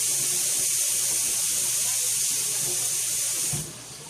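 Tap water runs steadily into a kitchen sink as dinner plates are washed, a continuous close hiss that thins out and drops in level near the end, with no talking.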